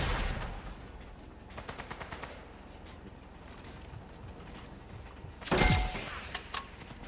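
Sniper rifle shots in a video game: a burst of sharp cracks near the start, a faint rapid string of reports around the two-second mark, and one loud blast with a ringing tail late in the sequence.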